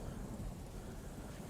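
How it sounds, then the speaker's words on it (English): Song intro thunder from Falling In Reverse's "Losing My Life": a dense, low rolling rumble with rain-like hiss, sustained and fairly quiet, with no talk over it. "Thunder and lightning."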